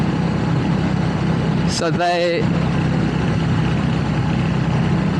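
A Royal Enfield Hunter 350 motorcycle engine idles in a steady, loud, low rumble throughout, with a single brief spoken word near the middle.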